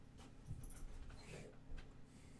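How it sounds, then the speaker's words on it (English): An excited pet dog whimpers and pants in short, restless bursts close by, with faint yips scattered through the noise of a room. "And dog's gone crazy."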